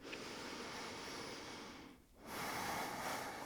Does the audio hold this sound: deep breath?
yes